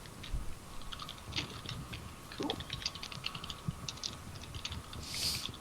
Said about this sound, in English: Don't mind me, I'm typing.